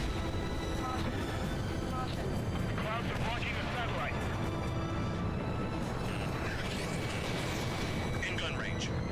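Aircraft guns firing in the combat flight game Ace Combat 7, a dense continuous roar of engine and rapid gunfire with brief bursts over it, a voice talking throughout.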